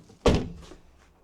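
A damaged Porsche car door is shut with a single close, solid thunk that fades quickly into near silence; the bent door does not close flush.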